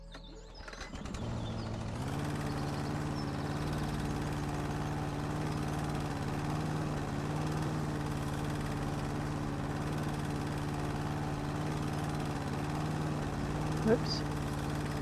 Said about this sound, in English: we're going to do is get our head straight by mowing the lawn